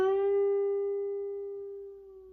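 A single plucked electric-style guitar note on the G string at the 11th fret is bent upward and left to ring, sustaining clearly and slowly fading over about two seconds with no talking.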